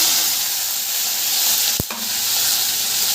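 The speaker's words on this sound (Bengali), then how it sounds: "ফ্রাই হবে।" Onion and spice mix from bitter gourd filling fries in mustard oil in a kadai, giving a loud, steady, close sizzle throughout with one brief knock partway through.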